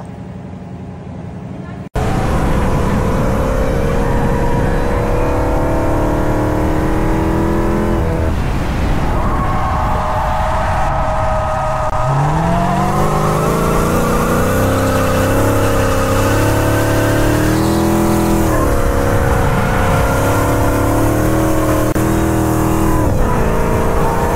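Car engine revving hard while the car drifts and slides, loud and close, with repeated rises and falls in pitch and a tire squeal, after a brief quieter start; voices talk over it at times.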